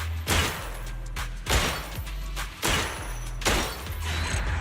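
Gunfire in the video game Zenless Zone Zero, four loud broadband bursts spaced about a second apart over steady game background sound.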